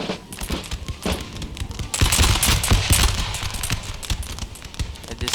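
Musket volleys in the Empire: Total War battle game, dense crackling bursts of rapid overlapping shots rolling on and off, heavier from midway, with a battlefield din beneath.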